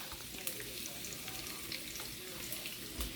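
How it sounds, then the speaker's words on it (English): Sliced onion slivers sizzle in a couple tablespoons of oil in a skillet, a dense, steady crackle with small pops scattered throughout. "we're gonna take these onions and we're going into a skillet"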